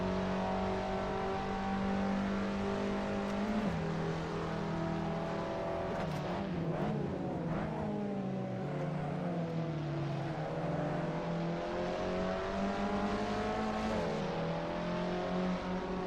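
Race car engine in Assetto Corsa during ranked online racing, loud and close, revving up and down through gear changes with a sustained high whine, no talk.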